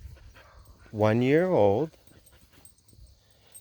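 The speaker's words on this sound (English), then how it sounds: "Hiccup is an Icelandic sheepdog" Hiccup, a one-year-old Icelandic sheepdog, gives one drawn-out, wavering whine that rises and falls for about a second, loud and close, and a person speaks briefly nearby.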